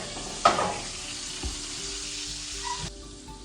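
Steak searing in a hot pan, a steady hiss of fat with sharp knocks and scrapes from handling the meat, close and moderately loud, quieting abruptly near the end; no talk.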